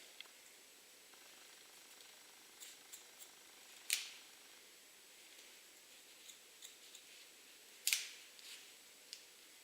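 Hair scissors snip the ends of medium-long hair during a bob haircut, two sharp, distinct cuts about four seconds apart with faint small clicks and handling noise between them in a quiet room.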